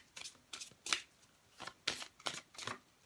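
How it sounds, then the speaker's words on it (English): Oracle cards being shuffled by hand, a series of short papery riffles and slaps in uneven bursts, close and quiet, with no talking. "I'm going to just draw an oracle card quick before my voice goes"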